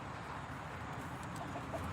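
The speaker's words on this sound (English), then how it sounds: "Here's our chicken coop and all of our beautiful chickies." Chickens in a backyard coop make soft, continuous clucking and murmuring under steady ambient noise, with a few faint higher calls toward the end.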